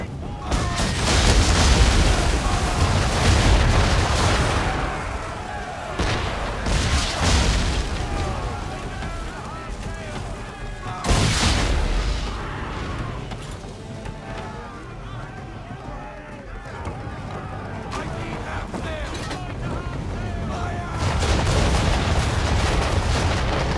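Heavy cannon fire from English frigates in Assassin's Creed III booms and rumbles through a loud naval battle, with repeated deep blasts, crashing impacts and shouting voices amid dense noise.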